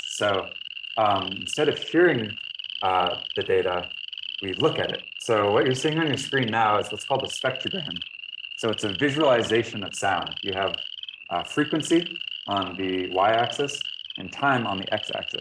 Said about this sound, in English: what we're looking at right here is a chorus of boreal chorus frogs